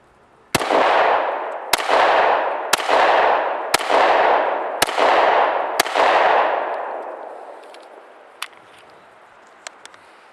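Six sharp shots from a Walther PPS 40 pistol fired at an even pace about a second apart, each loud crack trailing off in a long echo, followed by a few faint metallic clinks.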